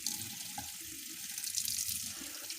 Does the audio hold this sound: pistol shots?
no